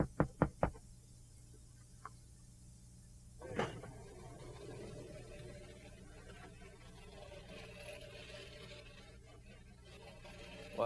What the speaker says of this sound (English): I'm gonna knock on the garage here